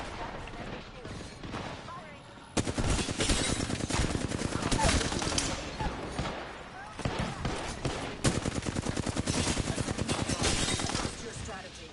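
Dense bursts of automatic weapon fire from the Apex Legends video game, rapid clattering volleys that stop and start, loud and close, with game voice callouts now and then.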